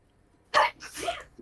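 One short sneeze bursts out at a distance, sharp at first and then trailing into a breathy release, in an otherwise quiet space.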